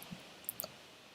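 Computer mouse clicks while working on a Figma plugin: two or three faint, crisp clicks close together over a quiet room hiss, with no voices.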